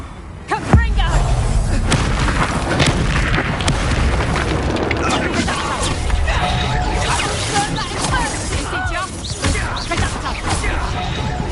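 A Confringo fire spell bursts in Hogwarts Legacy with a sharp, loud boom near the start, followed by crackling, clattering game effects while a voice talks throughout.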